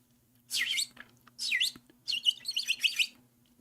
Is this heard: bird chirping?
yes